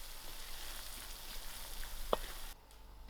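Peas cooking in a pan for creamy soya prawns, a low, even sizzle and crackle with a couple of faint clicks, heard alone without talking.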